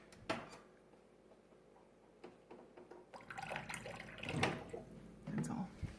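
Water is poured in a small amount into a thick mixture for a healthy meal or dessert, giving brief soft splashing and trickling, with faint talk around it.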